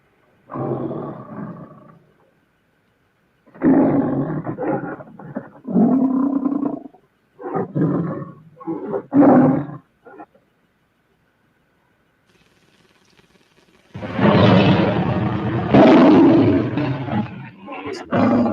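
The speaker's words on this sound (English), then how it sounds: "That's 4. 4 roars in one." A film-intro lion roars in a series of loud, close growling bursts separated by short silences, ending in a longer, heavier roar.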